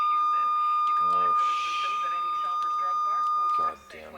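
Radio deviation alarm sounding as a steady high electronic tone that holds for several seconds, with crackling radio chatter and a voice underneath before it cuts off.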